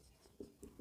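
Chalk or marker scratches on a classroom board during a Class 12 chemistry lecture, a few short soft strokes in an uneven rhythm, quiet and close, with no talk.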